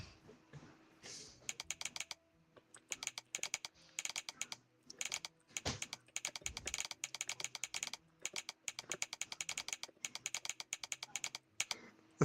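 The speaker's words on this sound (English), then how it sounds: "The typewriter, man." Rapid, uneven clatter of keys striking on a typewriter, arriving in dense bursts with brief pauses between them, fairly close and steady, with no voices.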